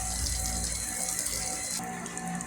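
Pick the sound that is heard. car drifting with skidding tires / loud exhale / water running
water running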